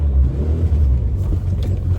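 1981 Dodge Challenger on the move, its engine running as a loud, steady low rumble from inside the car, a slight rise and fall in pitch and no talk over it.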